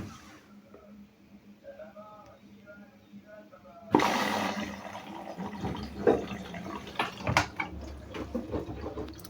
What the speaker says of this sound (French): On va remettre de l'eau.